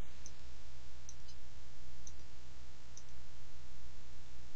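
A computer mouse clicked in software, four faint, evenly spaced clicks about a second apart over a steady low background hum, with no talk.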